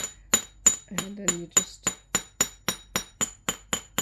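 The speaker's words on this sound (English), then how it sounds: "I said domed chasing hammer because the sort of domed face prevents any marks" A domed chasing hammer strikes wire for a hammered pendant: about a dozen sharp metallic taps in a steady, quick rhythm, close and clear, with a voice speaking briefly partway through.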